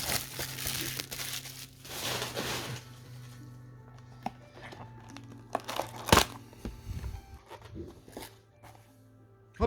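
Opening a Yu-Gi-Oh Crossover Breakers booster pack: close crinkling of the foil wrapper in bursts, with a sharp tearing crackle partway through and quieter handling rustles between.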